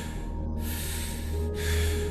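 Deep rhythmic breaths during a breathwork meditation session, airy inhales and exhales flowing in steady cycles close by over a soft, sustained musical drone.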